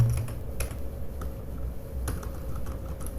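Keys clatter on an unfamiliar computer keyboard while someone enters a MySQL query, a close, irregular run of light clicks with a few sharper, louder strokes.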